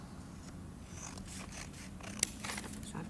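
Scissors snip through folded paper, several soft crisp cuts close up, with one sharper click as the blades close, fairly quiet and steady.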